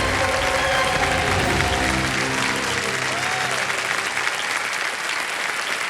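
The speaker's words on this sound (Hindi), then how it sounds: "जोरदार तालियां बजाएं इनके लिए।" A large studio audience on the quiz show KBC claps loudly and continuously, a dense wash of applause that carries on with a faint tone underneath.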